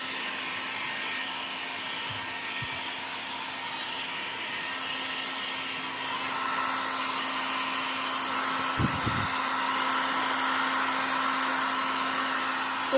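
A hair dryer blows a continuous, loud, airy roar with a steady hum while drying damp hair. A couple of faint knocks sound near the middle, and no one speaks.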